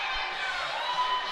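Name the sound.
excited crowd at youth ice hockey game after goal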